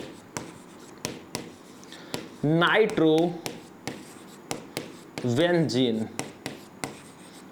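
Pen strokes writing out a chemical compound's name on a board during a Class 12 chemistry lesson: a run of short, dry taps and scrapes, with a voice talking over them in two bursts.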